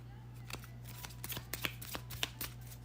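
Tarot cards riffled and shuffled by hand in a quiet room, a run of crisp papery flicks and snaps with a steady low hum underneath.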